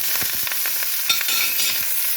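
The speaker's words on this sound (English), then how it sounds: "now I am going to sear both sides of this roast" A beef roast sears in a hot pan on a stove, giving a loud, close, continuous sizzle broken by brief sputters and crackles, with no talking.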